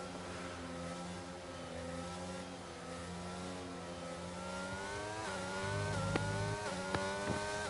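F1 racing cars accelerating at a safety car restart in a video game race at Britain, several engines revving and rising in pitch together, with sharp gear-shift blips near the end, no voices.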